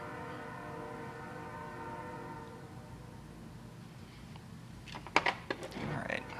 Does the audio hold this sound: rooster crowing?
no